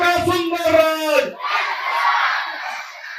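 A crowd at an outdoor Jan Suraaj rally chants the slogan back in unison, a burst of rhythmic voices followed by a broad, sustained wash of shouting and cheering from many people.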